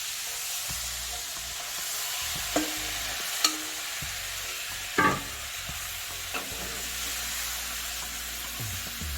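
Curry pork sizzles steadily in a hot pan on the stove, with a few sharp scrapes and clanks of stirring breaking through the constant frying hiss; no one speaks.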